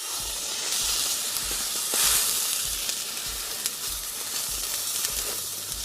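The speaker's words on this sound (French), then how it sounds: "Mets ces steaks surgelés sur la plaque." Frozen Aldi smashed burger patties sizzle steadily on a griddle over medium-high heat, a broad continuous hiss with a brief louder crackle burst near the middle, no voices.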